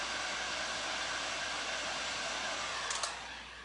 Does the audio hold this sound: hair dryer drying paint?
yes